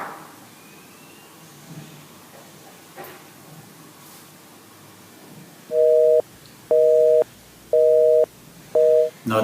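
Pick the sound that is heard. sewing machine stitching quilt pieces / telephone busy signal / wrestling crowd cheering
telephone busy signal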